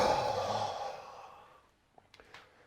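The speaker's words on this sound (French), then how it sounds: "Et j'expire, je me relâche." A person exhales during a guided floor exercise, pushing against the ground with legs and arms: a long, soft, breathy sigh that fades to near silence, followed by a few faint small knocks.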